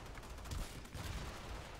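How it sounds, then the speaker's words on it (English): Kuva Zarr cannon firing in cannon mode in Warframe, a dense rumbling barrage of heavy booming blasts and explosions, loud and continuous throughout with no voices. "So let's use the cannon mode."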